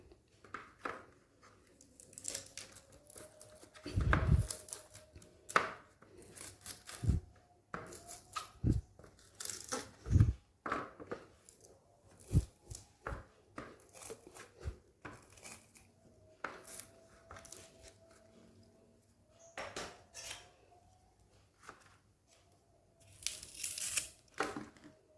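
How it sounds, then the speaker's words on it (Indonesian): Pandan leaves are cut into three pieces and lemongrass stalks are crushed for a homemade bandrek ginger drink: scattered close snips, crinkly tearing and occasional sharp thuds come irregularly over a quiet kitchen background. "potong daun pandannya jadi 3 bagian"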